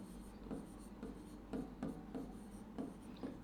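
Chalk or marker writing on a classroom board during a chemistry lesson, with short scratchy strokes repeating at an irregular rhythm over a steady low hum, close and fairly quiet, no talk.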